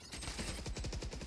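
Rapid automatic gunfire from the video game Valorant: a quick, steady burst of closely spaced shots, fairly faint.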